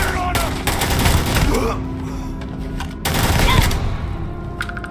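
Rapid bursts of automatic gunfire in the Starfield video game, loud and dense, coming in two long volleys with a short pause between them, with a voice shouting briefly over the shots.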